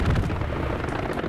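Bombing run explosions in Hell Let Loose roll out as a loud, continuous, heavy rumbling blast, close and booming with no break.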